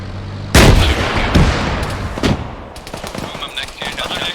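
Gunfire in the video game Arma 3: heavy shots and bursts boom out, several loud close reports with echoing tails, followed by fainter, more distant firing.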